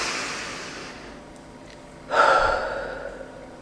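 A single deep, audible breath is drawn in sharply, then let out slowly as a breathy sigh, close and isolated in a quiet room.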